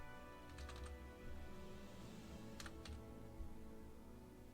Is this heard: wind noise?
no